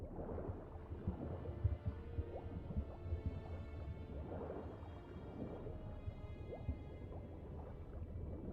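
Whale vocalization in The Witcher 3 video game, low groaning calls over watery churning and gurgling, a continuous murky underwater rumble with no speech.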